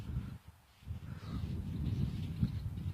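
Crows caw outdoors while a flock of about a dozen birds circles overhead, the calls faint and distant over a low rumble of wind or ambient noise.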